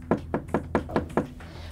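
Six evenly spaced knocks on the door of an ogre's house, sharp and close, with a short even rhythm and quiet afterward.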